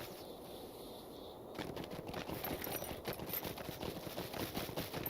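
Horse hooves galloping in the video game Lord of the Rings Online, set at Helm's Dike in Rohan, a fast steady clatter that starts after a short quiet stretch and keeps on evenly and fairly loud to the end.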